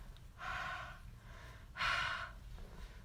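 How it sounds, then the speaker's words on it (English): Two slow, breathy exhales blown onto a rubber stamp to re-moisten its ink, close and soft, the second slightly stronger, with quiet pauses around them. "now I'm going to breathe on it again"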